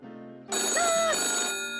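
A telephone rings in a film, a bright electric bell trill starting suddenly after a quiet start and sustaining loud and close for over a second.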